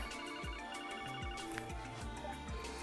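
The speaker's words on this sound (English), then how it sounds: "Is that a portable communication device? It's a phone" A phone rings in the Trails from Zero video game with a repeating electronic ringtone, a quick run of chirping tones recurring about every half second. The ringing is fairly quiet but steady and continuous, with no speech over it.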